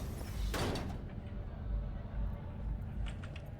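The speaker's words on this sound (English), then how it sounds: "That sounded like, okay, a door just opened." A sliding door opens in the Cyberpunk video game with a single loud whoosh and mechanical clunk, then fades into a quiet low ambience with a few faint clicks.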